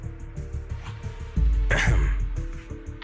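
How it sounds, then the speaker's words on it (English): A throat-clearing cough from a character in the video game Zenless Zone Zero, a short harsh burst in the middle of the clip over a steady music bed. "you'd cover up your nerves with a cough like that"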